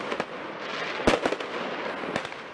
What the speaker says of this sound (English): Fireworks explode in the streets and fires rage